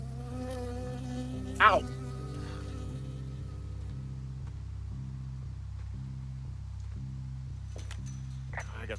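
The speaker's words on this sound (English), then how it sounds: "I got stung by a bee." A bee from Firewatch buzzes close by in a steady, rhythmic drone, with a sharp cry of pain partway through and faint rustling near the end.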